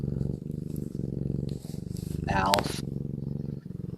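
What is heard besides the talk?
cat named Alf purring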